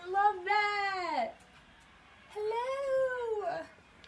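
A cat gives two long, drawn-out meows, each about a second, loud and close, separated by a short silence.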